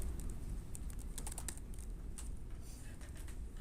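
Keys on a computer keyboard tap in quick irregular runs during a lecture in a large room, fairly faint against a steady roomy background hiss.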